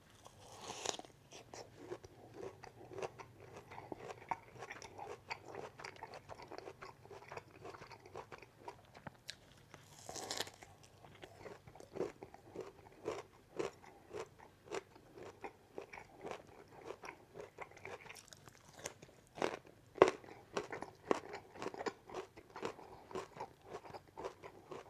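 Crunchy boiled broccoli being chewed up close, a steady run of crisp bites and crunches in quick rhythm, fairly quiet with no talking.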